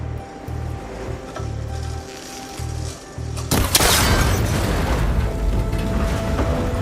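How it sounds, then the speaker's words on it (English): In Horizon Forbidden West, rhythmic mechanical pulses and clicks come first, then a sudden loud shot cracks and a cable connector breaks apart, leaving a dense, rumbling crash and clatter that lingers for several seconds. "That connector's holding the cables together. It should break if I shoot it."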